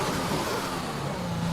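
An F1 car engine in the F1 2021 racing game, leaving the garage in qualifying at Belgium: a steady, loud mid-pitched engine drone, continuous and close, with no voices.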